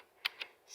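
Two crisp, clicky key presses sound close up on an IBM Model M keyboard, a short quiet gap between them.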